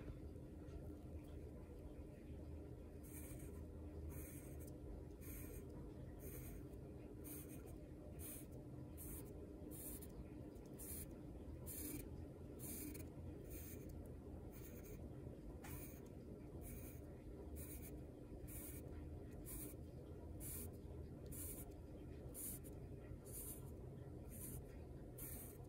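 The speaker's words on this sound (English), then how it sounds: "I'm actually going to draw some lines all the way around, just some straight lines" Pencil drawing straight lines close together on paper, a steady series of quick scratchy strokes repeating through the whole stretch over a low background hum, with some faint talk.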